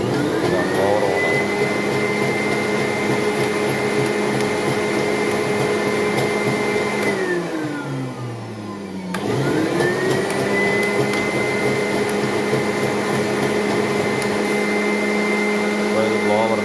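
Blower on a cocoa shell remover machine droning steadily, its pitch sliding down as the speed drops, briefly dipping low, then winding back up to a constant whine, loud and continuous throughout.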